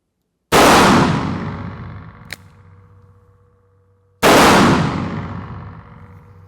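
Taurus Judge Home Defender revolver fired at an outdoor range, loaded with Noble Sport 2.5 inch 6-shot shotshells. Two loud, sharp blasts about four seconds apart each ring out into a long decaying tail, and a small metallic click falls between them.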